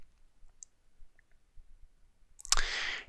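A single crisp mouse click on a save button in WordPress, landing sharply near the end after a near-silent stretch with only faint room noise.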